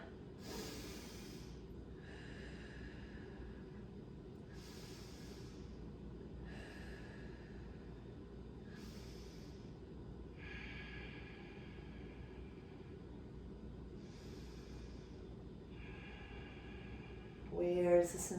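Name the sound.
slow breathing during a stretching exercise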